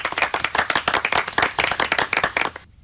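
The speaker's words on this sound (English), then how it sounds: "Round of applause for John." Studio applause on a live radio phone-in show, a dense burst of many hands clapping at a steady loud level for over two seconds, then cutting off abruptly into silence.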